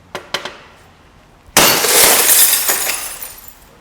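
Security glass panel struck and bursting apart, a few sharp knocks first, then an abrupt loud shatter with a sustained spray of crackling, tinkling fragments that slowly thins out.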